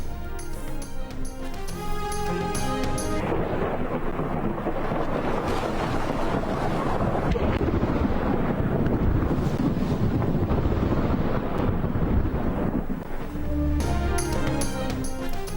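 Deep rolling thunder from lightning striking the Makkah Clock Tower, a loud sustained rumble over heavy wind and rain noise, with musical tones at the start and end.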